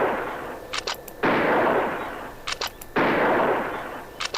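Gunshots from hunting in the video game Oregon Trail 3: three loud, close blasts about 1.7 seconds apart, each a sharp crack with a long noisy decay, alone with no talk.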